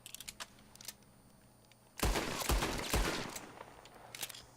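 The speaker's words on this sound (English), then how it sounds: "I'm gonna shoot from the Kettleman." Kettleman pistol shots ring out in Red Dead Redemption 2: after quiet ambient clicks, three loud, rapid shots crack in close succession, each trailing a ringing tail.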